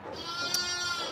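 A newborn lamb gives one loud, close, wavering bleat that lasts just over a second, with no talking.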